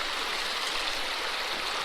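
River water rushes steadily through a fluid bed sluice on a Kern River gravel bar, a continuous close, loud broadband wash with no breaks.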